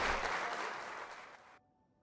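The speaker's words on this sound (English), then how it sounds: "Get a good round of applause." A short burst of applause, steady clapping that fades and then cuts off abruptly, heard alone without talking.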